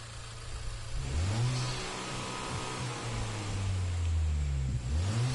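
Car engine in the Gran Turismo Sport racing game, revving up and down through the gears while driving, a loud steady drone with rising and falling pitch sweeps and no talking.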